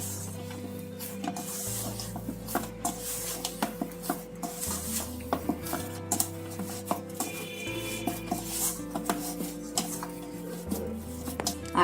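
Semolina dough for chirote khaja is kneaded by hand, giving soft, rhythmic rubbing and pressing sounds close by, repeating steadily under a quiet tonal background.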